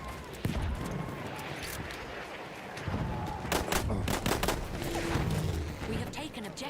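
Battlefield 1 gunfire, scattered rifle and machine-gun shots cracking in quick bursts amid battlefield noise, with a cluster of sharp rapid shots in the middle and someone talking over the action.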